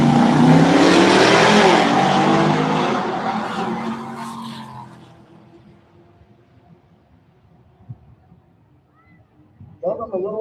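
Drag race cars, a Cadillac and a Mercury, roar loudly together off the line with tire squeal, then fade quickly into the distance, leaving quiet before another engine swells up near the end.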